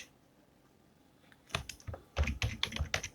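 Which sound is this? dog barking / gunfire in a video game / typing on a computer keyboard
typing on a computer keyboard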